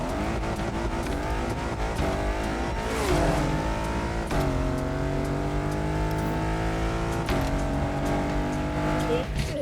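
Race car engine in a racing video game played on an Apex racing wheel, a continuous loud high-pitched whine rising and falling through gear shifts, with tire squeal and no talk over it.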